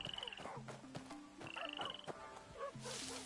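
Frogs croak in the video game Where Winds Meet on PS5, with short repeated calls in an uneven rhythm, some near and some farther off, layered with small game effects and no talking.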